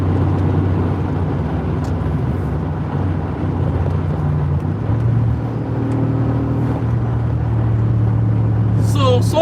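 A 2017 Mercedes G 63 Wagon cruises with a steady low engine drone and road rumble from inside the cabin, the pitch shifting slightly midway, with a voice talking over it.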